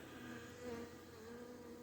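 Several bees buzz around a phone lying near food, a quiet, steady insect drone holding evenly throughout with a slight swell midway, no voices.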